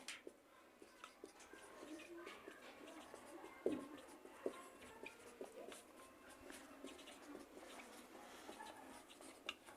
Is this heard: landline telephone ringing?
no